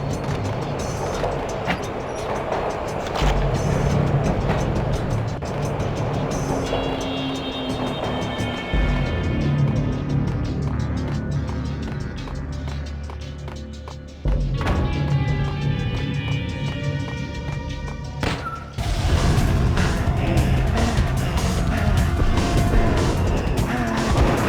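A car roars off inside the Max Payne video game, a steady engine drone with shifting whines and a sudden surge near the end, heard amid layered game ambience with no talk.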